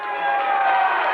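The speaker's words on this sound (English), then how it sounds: "He gets a big hand for the crowd over here as they made the call on the out-of-bounds hit" Crowd at a 1991-92 high school boys basketball game between Upper Dauphin Area and Juniata, giving a loud, steady burst of applause and cheering that fills the gym without a break.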